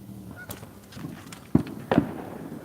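Fireworks going off outdoors at night during a carp fishing session: two sharp, fairly distant bangs about a third of a second apart over a quiet background with faint rustles and bird-like calls.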